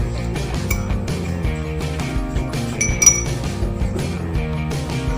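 A glass microscope slide being picked up and handled, giving repeated bright clinks and taps of glass against glass and a hard surface at close range, with no talk.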